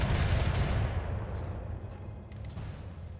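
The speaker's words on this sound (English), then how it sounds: "Firing all weapons." A mech in a video game fires all its weapons, opening with a dense roaring volley of heavy booming shots that fades into a rumbling decay with a few faint crackles afterward.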